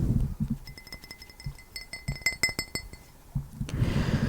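Light bright clinks from an empty drinking glass being tapped, a rapid irregular series of delicate ringing taps in a quiet close-up setting, with soft handling noise before and after.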